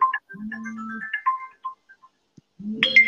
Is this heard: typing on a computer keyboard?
no